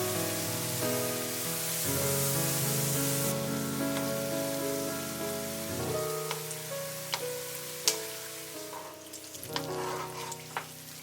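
Banana batter frying in hot oil, the leftover batter turning into small popcorn-like crisps. A steady, dense sizzle carries throughout, with occasional sharper pops and crackles near the end.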